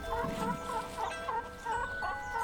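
A chicken clucks in a steady rhythm of short, repeated calls, close and fairly faint, with a low background hum and no talking.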